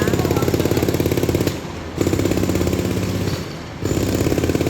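Road construction machinery works at night in Japan, a loud rapid hammering pounding close by in long bursts with two short pauses, with faint talk in the background.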